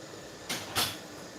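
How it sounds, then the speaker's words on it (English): A door swings shut in a home, giving two quick soft knocks about a third of a second apart, close by and moderately loud against a quiet room. "Just shut the door, please."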